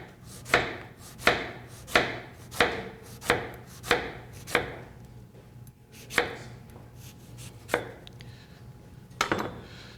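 A knife slices through firm celeriac root on a cutting board in a home kitchen, making about a dozen sharp, close chopping strokes in a steady rhythm that slows and thins out toward the end.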